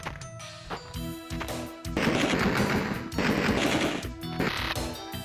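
Thompson submachine gun in Alone in the Dark 2, firing loud, close, rapid automatic bursts in several long stretches with harsh retro-game crackle between them.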